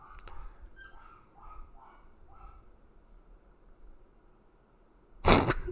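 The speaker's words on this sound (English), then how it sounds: "Zeus is whimpering" A dog named Zeus whimpers indoors in a short series of soft, high whines, faint and close, followed by a sudden loud burst of noise near the end.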